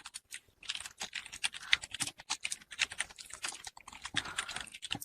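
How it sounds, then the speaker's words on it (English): Rapid typing on a computer keyboard, with irregular bursts of crisp key clicks and brief pauses, close and steady throughout, no voices. "Let me type that."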